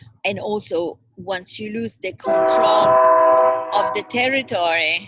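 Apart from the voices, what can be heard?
train passing in the background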